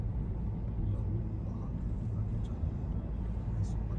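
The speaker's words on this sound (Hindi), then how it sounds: "फाइनली दोस्तों गाड़ी अभी बड़ी शानदार तरीके से चल रही है" Toyota Innova Crysta cruising on a highway, a steady low road and engine rumble filling the whole stretch, fairly quiet and even.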